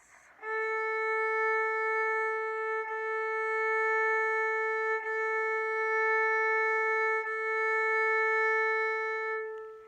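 A violin's open A string bowed on a steady, sustained note, held for several seconds with a few smooth bow changes, played alone and close.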